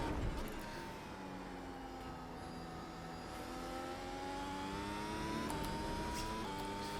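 A race car in the iRacing simulator, lapping Phillip Island, accelerates through the gears with a whining engine note that climbs and shifts several times, steady and moderately loud behind the cockpit ambience.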